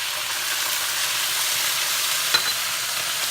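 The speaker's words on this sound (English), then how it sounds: "the Brussels sprouts are now in the same juices that we cooked the pork" Brussels sprouts fry in leftover pork juices with apple cider vinaigrette, a loud, even sizzle close up, with one faint clink partway through.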